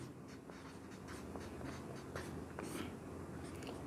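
A pen scratches out a math solution on paper in quick, close strokes and taps, steady and fairly quiet with no talking.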